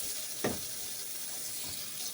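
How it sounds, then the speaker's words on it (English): Tap water runs steadily into a kitchen sink for handwashing, a continuous close hiss with a brief splashy burst near the start, no talking. "Wash your hands there."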